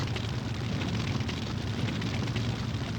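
Continuous rumbling artillery barrage in the World War II strategy game Sudden Strike Forever, a dense, steady roar of distant explosions and booms blending into one another throughout, with no voices.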